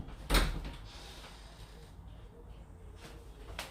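A door at the back of a home kitchen swings open or shut with a single sharp knock near the start, followed by quiet room noise and a faint later click.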